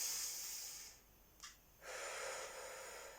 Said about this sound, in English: when I take a breath in through my nose